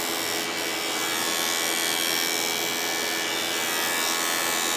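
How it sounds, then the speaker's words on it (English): A GEREFET pet grooming clipper, part of a vacuum and dryer grooming kit, shaves a little off the top of a cat's fur with a steady, close, unbroken electric buzz and no voices. "I'm not shaving too much off, just shaving a little bit off the top"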